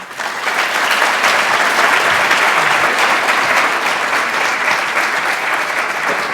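Loud, steady applause from an audience welcoming a speaker at an architecture lecture, dense clapping that holds at full strength for several seconds with no voices.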